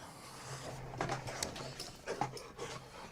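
A dog pants softly and lets out faint whimpers, a jealous male kept near a female dog, with brief scuffling noises close by and no one speaking.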